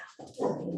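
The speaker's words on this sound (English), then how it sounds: "the vicious guard dog" Teddy, a golden doodle, lets out a short, muffled bark that fades into a low whimpering tone, close by, with no talking.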